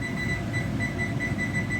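Kitchen timer set while baking crawfish pies on a gas stove: a thin, regularly pulsing beep repeats over a low steady room hum, faint and even throughout.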